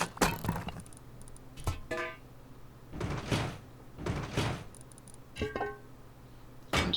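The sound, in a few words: door being installed in a base in Rust video game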